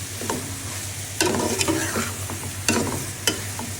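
Okra is tipped into a pan of spices and stirred, a steady sizzle broken by several sharp scraping clatters of a spoon against the pan, close, with no talking.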